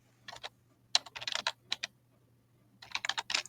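Fingers type on a computer keyboard in quick clustered bursts of crisp clicks, separated by short pauses, close up over a faint steady hum.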